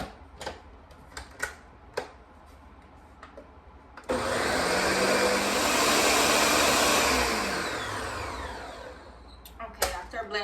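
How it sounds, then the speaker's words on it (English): Kitchen blender running on high, whirring steadily through eggs with ground cinnamon, nutmeg and vanilla for a Guyanese steamed custard; the loud motor starts abruptly after scattered clicks and taps, holds for several seconds, then winds down. "I'll proceed to blend this until the egg is nice and smooth and mixed in with all of the spices"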